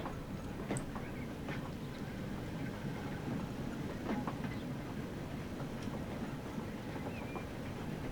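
A 4-4-2 Atlantic steam locomotive and its coaches roll along the track in the video game Transport Fever, with a steady moderate rumble and scattered rhythmic clicks and clanks over several seconds.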